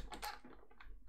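Several quick keypresses on an Amiga keyboard, including the F1 key, sound as brief clicky taps close by in a quiet room, with no voices.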